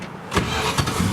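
A 1967 Dodge Dart cranks briefly and catches, its engine firing into a loud, close rumble that settles toward idle, with no one speaking.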